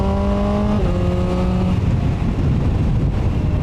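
A QJMotor SRK 921 four-cylinder motorcycle engine, derived from the MV Brutale 921, runs loud and close with a rising then falling whine as gears change, over heavy wind rush while riding.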